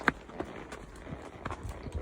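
An unshod horse walks on grass beside a cobbled path, a handful of soft, muffled hoof thuds in an uneven walking rhythm, close and fairly quiet.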